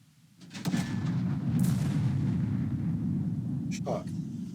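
Artillery shot in the Second Front war video game: a booming blast swells in and settles into a sustained low rumble, with brief clicks and a short voice-like burst near the end.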